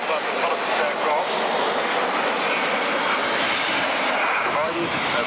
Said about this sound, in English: the arrival of the Nimrod, also with the in-flight refueling probe, long-range maritime reconnaissance aircraft